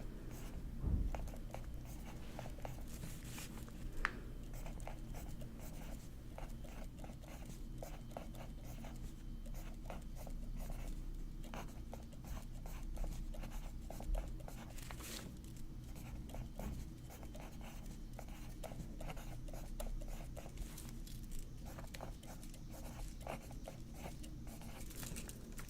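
Handwriting of Japanese kanji and hiragana with pen on paper: steady, close scratching strokes and small taps run continuously throughout at a soft level, with no voice.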